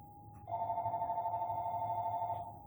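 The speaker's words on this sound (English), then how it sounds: "Phone's ringing." A telephone rings indoors during a wet-on-wet landscape painting session: one steady electronic ring tone that holds for about two seconds, then cuts off, clear over a low background hum.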